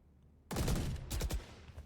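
Gunfire fired through a wall in the tactical shooter Valorant during a tournament grand final, a sudden loud burst of several rapid close shots followed by sharper cracks, with no talking.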